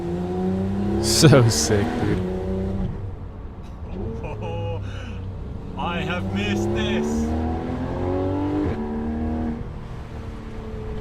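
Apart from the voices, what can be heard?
Porsche GT4 RS sports car engine revving while driving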